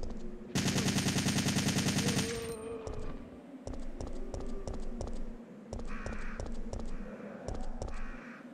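A burst of rapid assault rifle fire from the game Resident Evil 3: Nemesis rattles loudly for about two seconds, followed by a steady series of single sharp shots and clicks at an even pace, no voices.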